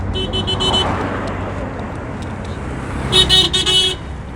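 Taxis and buses crawl through town traffic in Mayuge, with a steady road rumble and two bursts of sharp, close horn honks, one early and a louder cluster near the end.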